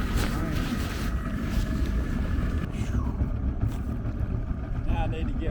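A fishing boat's outboard motor drones steadily on a pond, loud and continuous with wind buffeting the microphone throughout.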